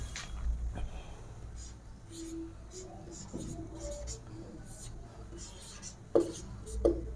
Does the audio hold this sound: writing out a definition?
yes